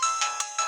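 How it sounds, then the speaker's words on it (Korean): A mobile phone ringtone chirps in a bright electronic pattern of three or four short repeating pulses, clear and close, with no talking. "그때 휴대폰이 울려요."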